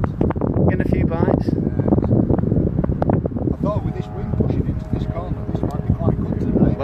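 Wind gusting across the corner of a fishing lake, buffeting the microphone with a rough, steady roar that continues under a voice.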